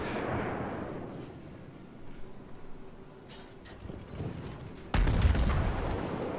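Warship guns fire salvos in the naval combat game World of Warships, with a dull boom at the start and a heavy, loud blast near the end, over steady wind and sea ambience.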